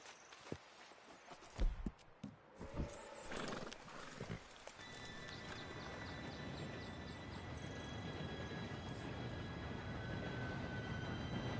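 A steam-era train approaching in Red Dead Redemption 2, rising into a steady rumbling roar with a faint whistle-like tone, preceded by horse hooves and movement sounds.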